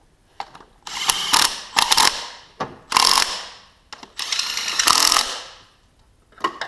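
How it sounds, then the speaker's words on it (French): Ratchet wrench tightening a bolt on the timing assembly of a Renault Laguna 2 F4RT 2.0 L 16V turbo engine, with loud close bursts of rapid ratcheting clicks separated by short pauses and single clicks, and no talk over them. "Moi je reste avec mon cliquet"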